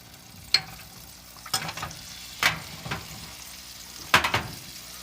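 Three tablespoons of butter sizzle and crackle in a pan on a cooktop, with a few sharp spattering pops and stirring scrapes spread over a quiet, steady fry.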